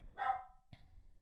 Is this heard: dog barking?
yes